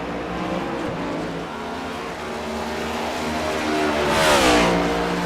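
A race car on the Indianapolis road course roars past, its engine climbing in pitch as it nears, then a loud rushing swell of wind and tire noise as it goes by.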